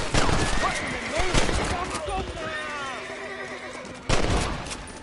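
Gunfire erupts in Red Dead Redemption, sharp shots and a rapid fusillade in bursts at the start and again near the end, with horse whinnies and speech-like voices in between.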